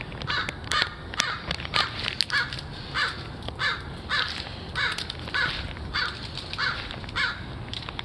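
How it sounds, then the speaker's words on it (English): Repeated crow caws ring out in a steady series of sharp calls, moderately close over a low rumbling background, with no talking. "Oh my God, this crow right there."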